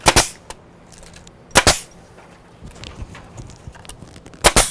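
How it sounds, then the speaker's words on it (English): A nail gun firing nails into a PVC rafter tail: three sharp, loud shots spaced a second or more apart, with quieter handling and shuffling noises between them and no talking. "Just make sure you're firmly pressing up when you shoot these nails"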